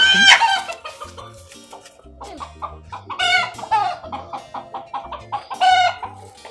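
A chicken brought home clucks repeatedly in loud, close bursts with squawky rising calls and a brief crow-like cry, against a faint background.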